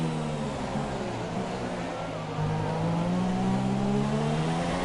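F1 2017 race cars on the Melbourne circuit during the Australian Grand Prix in the video game, a continuous engine drone with rising and falling pitch, steady and fairly loud with no pauses.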